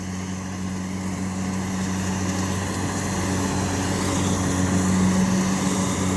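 An Eicher 551 4WD tractor and a Kubota harvester run steadily in mud, a continuous loud engine drone with low harmonic hum that swells slightly toward the end.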